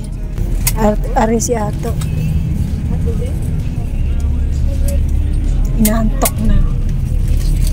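Steady engine and road rumble from inside a bus travelling the highway toward Bicol, a constant low drone throughout while a voice speaks over it and faint clicks and chirps come through.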